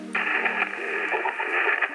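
Ham HF radio reception crackles with a steady hiss of static, a narrow, tinny band of noise that runs continuously for a couple of seconds.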